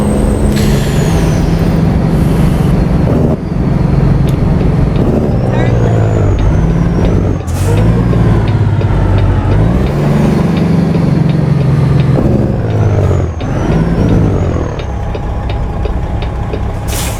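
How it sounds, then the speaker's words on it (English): Fuel tanker truck hauling a load of fuel and gas on the road: steady loud engine drone with rising and falling gear-shift whines, sharp air brake hisses and bumps throughout, close and continuous. "now we're on the road here with our load of fuel and load of gas"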